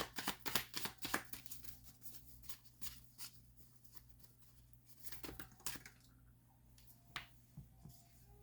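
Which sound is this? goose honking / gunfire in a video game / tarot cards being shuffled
tarot cards being shuffled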